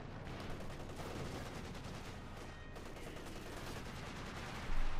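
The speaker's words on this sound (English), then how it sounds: "Panther taking hits with the field gun." Field gun shells striking a Panther tank in Company of Heroes 2, a steady dense barrage of battle noise and crackling fire, with a sharper loud impact right at the end.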